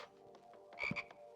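A single frog croak comes from the video game Backpack Battles, short and close, over quiet game sound with no talk.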